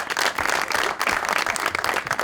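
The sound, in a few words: studio audience applause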